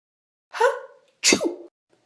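Two loud, close human sneezes, each a sharp burst with a short gap between them, and no talk around them.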